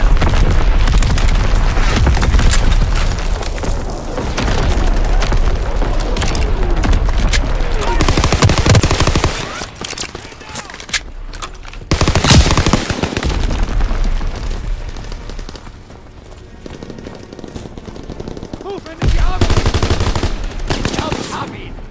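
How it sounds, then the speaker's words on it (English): Heavy gunfire, booming explosions and artillery fire in a Call of Duty WW2 team deathmatch battle, with a Fritz X bomb strike and battery fire; loud, dense and continuous, with bursts and blasts close and far throughout. "Fritz X-bomb mission underway. Firing battery 1."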